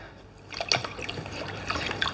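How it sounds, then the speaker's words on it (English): Water drips and splashes as paint brushes are rinsed in a bucket of clay water, a few quiet close trickles and plinks over a faint background. "Let's just keep these brushes nice and clean, and then I will rinse it here"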